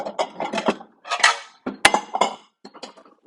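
Ceramic bowls and plates handled while plating food in a home kitchen, with a series of close clinks, knocks and scrapes, irregular and separated by brief silences.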